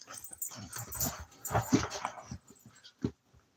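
A pet dog whimpers and yips in short, soft bursts, close by, with a few quiet sounds between the cries and a final brief whine near the end.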